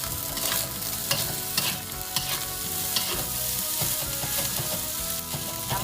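Nasi goreng, Indonesian fried rice seasoned with broth, pepper and sweet soy sauce, being stir-fried in a pan: steady sizzling with repeated clanks and scrapes of the utensil against the pan, close and continuous, with no talking.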